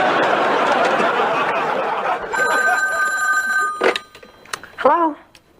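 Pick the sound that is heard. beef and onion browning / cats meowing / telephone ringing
telephone ringing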